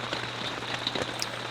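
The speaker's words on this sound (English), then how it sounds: "you're hearing the rain on the top of the camper right now" Steady rain drums on the roof of a camper, a dense, continuous patter with a few sharper drops standing out, close and even throughout with no voices.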